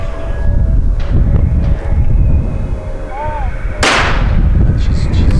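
A single loud, sharp shotgun blast cracks out at a women's trap shooting final at the 2017 ISSF World Cup in New Delhi, rising above a steady bed of outdoor crowd and range noise.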